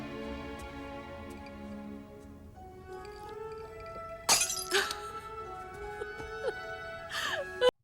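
A drinking glass shatters in the animated film Batman: Mask of the Phantasm, with two sharp crashes and tinkling debris over a tonal musical score.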